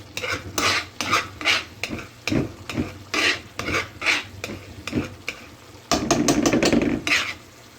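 Yellow lentils stirred in a pot on the stove give repeated rhythmic scraping strokes with a soft sizzle beneath, ending in a denser stretch of mixing and bubbling.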